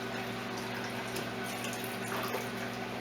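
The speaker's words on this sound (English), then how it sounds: "So I'm just going to add some more water" Water pouring steadily into a pan of lentil and barley vegan soup, a continuous close splashing and trickling that runs evenly for a few seconds with no talk.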